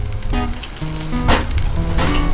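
Balsamic vinegar sizzles and crackles steadily on a hot Blackstone griddle, loud and close, with sharper spitting pops breaking through a continuous frying hiss.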